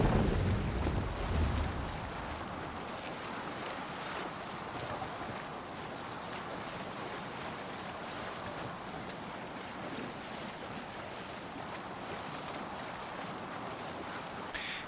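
A boat sails across the sea in Assassin's Creed Valhalla, heard as a continuous wash of waves and wind around the hull, with a brief louder low rumble at the start before settling into a steady background.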